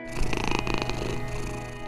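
A cat purrs steadily and close up, a soft continuous rhythmic rumble lasting the whole moment with no voices.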